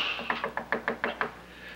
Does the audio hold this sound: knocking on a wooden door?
yes